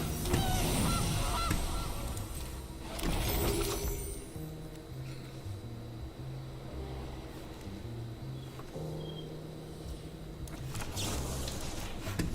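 In the MTG Arena video game, loud cartoonish goose honks come in bursts at the start, around the three-second mark and near the end, with quieter squawking and game sound effects in between.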